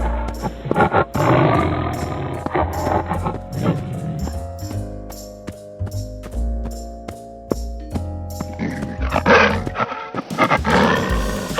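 A cartoon tiger lets out a loud, close roar, several growling bursts that swell and fade over a bouncy children's music bed with steady percussive beats.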